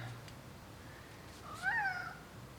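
A cat's meow rises and falls once midway through, fairly close and clear over a quiet room background.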